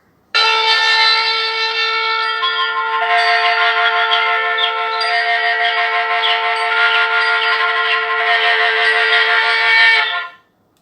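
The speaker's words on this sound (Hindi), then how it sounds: "ये शंखनाद हो गया है दोस्तों" A conch shell blast produced electronically by a talking Bhagavad Gita book's reading pen, one long steady harmonic blare lasting about ten seconds at strong, even loudness before cutting off.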